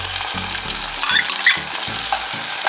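Chopped ground provision sauteing in a pan for a Jamaican cho cho and saltfish dish, a steady close sizzle with a low rhythmic bubbling beneath, with no voices.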